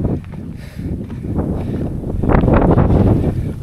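Strong wind gusting across an exposed hillside on a trek up Kalavantin fort, roaring and buffeting the microphone in a loud, steady rush that swells toward the end, with no voices.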